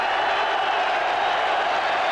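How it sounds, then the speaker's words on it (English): Football crowd at a match in Dublin roaring for a goal, a dense, steady wall of cheering at even loudness with no individual voices standing out. "Irish internationals get a special cheer when they score in Dublin"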